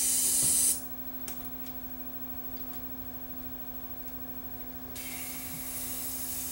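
Neutral contact cleaner sprayed from a nearly empty aerosol can into a Sanyo RDS20 cassette deck, one sharp close hiss that cuts off quickly, followed by a steady low hum.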